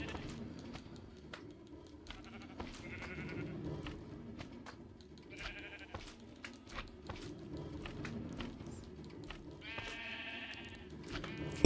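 Sheep in Minecraft bleat a few times at moderate distance, short wavering calls spread over several seconds amid scattered clicks and soft game sounds.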